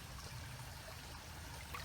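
Creek water flowing steadily at a low, even level, a soft continuous wash and trickle with no voices over it.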